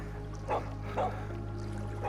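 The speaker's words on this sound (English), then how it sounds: "this is the first time I've seen this dog" Dog in the game Kayak VR: Mirage gives three short soft barks or yips at even intervals over a steady low hum of water and wind, with no talk.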